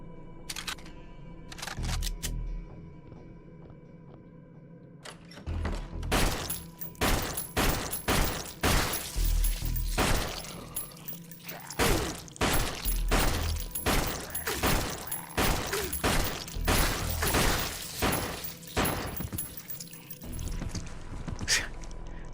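Continuous gunfire in the horror game Flesh Made Fear, a long run of rapid, evenly spaced loud shots starting after a quiet opening with a few isolated bangs, then sustained firing to the end.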